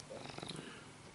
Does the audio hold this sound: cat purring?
yes